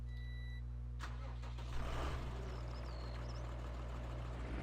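A tractor engine turns over and catches in Farming Simulator 19, a brief cranking burst settling into a steady low mechanical hum, with faint electronic beeps and game ambience around it.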